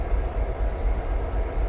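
Former CSX SD50-2 freight diesel locomotives rumble close by, a steady low-pitched engine drone with a broad mechanical hum and no talking.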